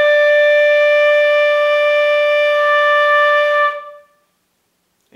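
A beginner band student's flute holds one steady, clear D note with a bright harmonic tone for nearly four seconds, then cuts off into silence as the breath runs out.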